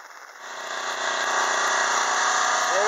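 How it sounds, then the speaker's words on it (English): A small portable generator runs steadily on a boat anchored in a sheltered spot, charging a trolling motor battery, with a constant mid-pitched engine whir that swells in the first second and then holds loud and close. "There it is, my little generator."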